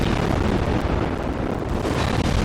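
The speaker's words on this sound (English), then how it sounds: "The game's audio couldn't handle that many hits at one time." A dense, roaring wall of crackling explosions as many shells strike a ship at once in World of Warships, the barrage so thick it blurs into continuous distorted noise with no talk.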